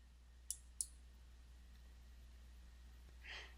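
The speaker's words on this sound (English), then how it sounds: "And click OK." Two crisp computer mouse clicks close together near the start in a quiet room, followed by a soft breathy exhale.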